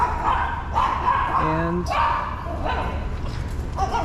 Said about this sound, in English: There are a lot of dogs walking by right now, and apparently they are not happy with seeing friends